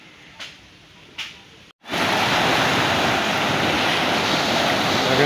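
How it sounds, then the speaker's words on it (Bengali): Water rushing through a sluice gate in a Padma river village, a loud, steady roar that bursts in after a short quiet stretch with a couple of soft thuds, then holds constant and close. "দেখেন জলের শব্দটা কীরকম, কীভাবে জল নামছে।"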